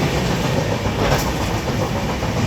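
A train running at night from Mumbai to Kolkata, heard from inside as a steady, loud rumble with rattling carriages, continuous and dense with no pauses.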